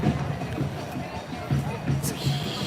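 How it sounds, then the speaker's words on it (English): Large protest crowd gathered in a downtown park on Chicago's west side, a steady murmur of many voices with scattered thumps and distant shouts, close babble running throughout. "It's a huge, pretty huge crowd here attending this protest."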